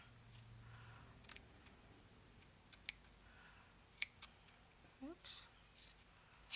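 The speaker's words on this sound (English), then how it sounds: "Just want to cut around this shape." Scissors snip around a paper shape for a handmade Parisian spring envelope, a few quiet, separate cuts with a sharper crisp snip near the end, close by in a hushed room with a brief spoken word.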